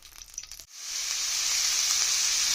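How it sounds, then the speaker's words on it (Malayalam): Vegetables hit hot coconut oil and ghee in a pan, and a brief clatter gives way to a loud, steady, close sizzle that holds strong to the end, with no talking. "നമ്മുടെ വെജിറ്റബിൾസ് എല്ലാവരും ഇട്ട് കൊടുക്കുന്നുണ്ട്. അതൊന്ന് നമുക്ക് വാടി വരട്ടെ, നല്ലോണം ഒന്ന് ഫ്രൈ ആവുന്ന പോലെ"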